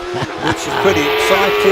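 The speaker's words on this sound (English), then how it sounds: "You can hear that little bike engine screaming in the background" Pete Tatham's OMS Hornet hillclimb car, its small motorcycle engine screaming at high revs in a steady, continuous wail on the Loton Park hill, running under excited commentary throughout.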